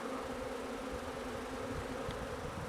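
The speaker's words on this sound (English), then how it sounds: "There's a bumblebee buzzing around here too." A bumblebee buzzes nearby outdoors, a continuous low droning hum that holds steady for a few seconds with no talking over it.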